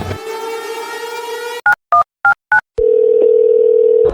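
A steady telephone dial tone hums, then a few quick beeps of number keys being dialed, followed by a long ringing tone.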